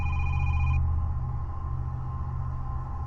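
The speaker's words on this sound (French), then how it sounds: "Il y a le téléphone qui sonne" In a Russian horror video game, a telephone rings with a bright electronic tone that cuts off early, leaving a low droning rumble and faint hum that carries on alone.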